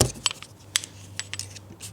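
Metal Allen keys being handled while working on a BMW Power Wheels ride-on, giving close, bright jingling clinks in several quick bursts over a low background hum.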